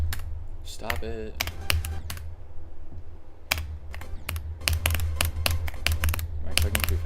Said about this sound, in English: Am I clicking too fast?